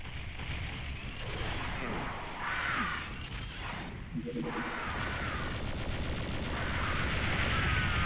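Repeated booming rocket blasts and explosions from Doom 64 gameplay on its hardest difficulty, dense and continuous, layered with game noise across the whole stretch with no pauses.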